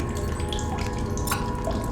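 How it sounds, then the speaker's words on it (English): Water drips in the survival video game The Solus Project, a few small plinks over a dense wash of ambient game noise, faint and close. "There's the water. I heard it."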